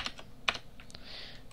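Computer keyboard typing as a command is entered, a handful of sharp clicks with one louder key press near the middle, close and alone with no talk.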